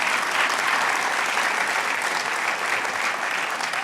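An audience at the Penn Center for Innovation launch applauds Mayor Michael Nutter with steady, dense clapping that holds at an even level throughout, indoors and unaccompanied by speech.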